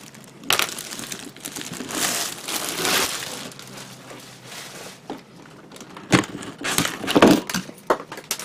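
Cardboard box of an MG 1/100 Providence Gundam model kit being opened, with crinkly crumpling, tearing and scraping of packaging in irregular bursts, louder near the end, no voices.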